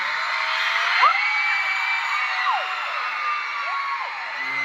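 A large crowd of young fans shrieking together at a Sturniolo Triplets fan event in Toronto, a loud sustained wall of high-pitched screaming and whoops filling a big venue, with no speech standing out.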